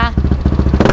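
A Yamaha NMAX V1 scooter with a KAOU aftermarket exhaust gets short, quick throttle blips up close, a choppy pulsing rasp rising and falling in rapid bursts.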